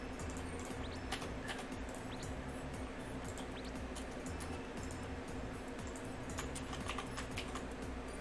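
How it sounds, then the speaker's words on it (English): Steady computer keyboard typing runs throughout at a fairly quiet level, with many rapid key clicks in an uneven rhythm and a low background hum beneath, with no voices. "I can know how to type your name without even looking at the keyboard"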